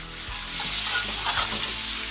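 A rib eye steak sizzles loudly in a skillet while butter is spooned over it, a close, continuous frying hiss with soft scraping and clinking from the spoon, no voices.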